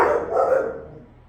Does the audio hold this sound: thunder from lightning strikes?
no